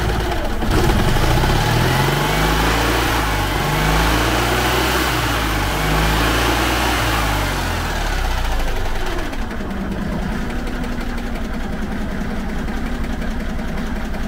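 A Citroën 2CV engine idles cold after four months of winter storage, with a steady loud low throbbing rumble and a clattering beat that smooths and drops slightly in pitch partway through, without any talk over it.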